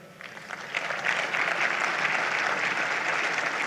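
Sustained audience applause in a conference hall, rising quickly to a steady, dense clapping wash that continues evenly throughout as two speakers are welcomed to a fireside chat.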